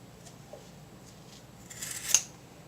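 Scissors snip through yarn dreads in a few quiet, close cuts, ending in one sharper, louder snip, with no talking.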